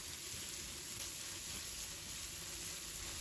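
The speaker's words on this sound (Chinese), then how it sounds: "所以开大火翻炒，把西红柿快速的翻炒均匀" Tomatoes stir-fried over high heat in a wok with bean paste give a faint, continuous sizzle and crackle, steady and even throughout with no voices.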